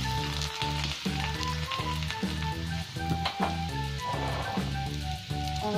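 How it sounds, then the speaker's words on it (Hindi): A dried chilli and chopped garlic crackle and sizzle in hot oil for tempering dal, a lively close hiss with frequent small pops and sputters, steady throughout with no talking. "मैं यहाँ पे दाल छौंक रही हूँ जिसमें मैंने डाला एक सूखी मिर्च,"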